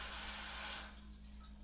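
Cold water sprays steadily from a bidet washer, a close hissing rush that tapers slightly toward the end, with no talking.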